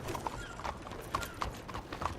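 Horse hooves clip-clop in a steady, fairly close rhythm, about five or six distinct strikes over a low background rumble, with no talk.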